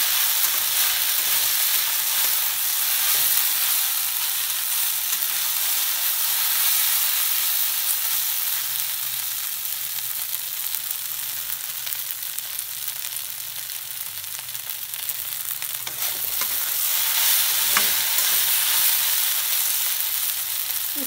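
Okra (bhindi) sizzling steadily in oil in a pan, a continuous bright frying hiss with faint scraping and stirring sounds underneath, no talk.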